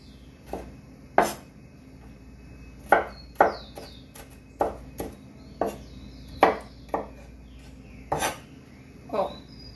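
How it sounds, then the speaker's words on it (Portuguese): A knife chops garlic and onion on a cutting board in a home kitchen, about a dozen sharp, irregular taps ringing out close and clear over quiet room noise. "cortei aqui um alho, uma cebola"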